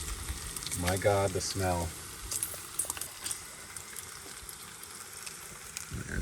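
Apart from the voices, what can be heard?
thick bacon frying in a pan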